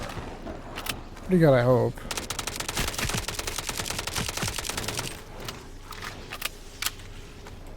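The Swan Song weapon in the Blood Reaver video game fires a rapid stream of shots with shot queuing, a dense rattling burst lasting a few seconds. A voice briefly speaks around the gunfire, which is followed by lighter clicks.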